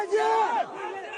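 Crowd of marchers at a long organized march shouting together, a loud surge of massed voices that rises sharply and then drops to a lower, sustained roar.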